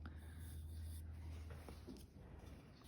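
A colored pencil scratches lines onto paper in soft, close, intermittent strokes, faint against a steady low hum, with no talking.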